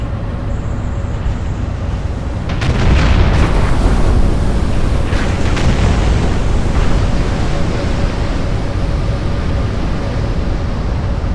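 Heavy shell splashes in the naval video game Battleship Command burst out as a loud rushing roar of water, followed by a few sharper crashing hits, then settle into a steady broad wash of surf-like noise with no voices.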